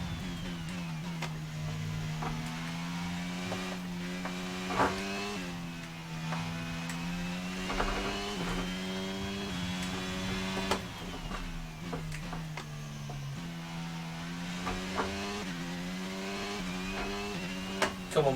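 Formula 1 race cars scream down the main straight at the Belgian Grand Prix in F1 22 on PS5. High-pitched engine notes rise and fall through gear changes, loud and continuous.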